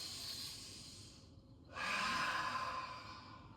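A single slow, deep breath is drawn in during a Rocket Yoga class, a soft airy inhale followed by a fuller, louder exhale that fades gently, with no talking.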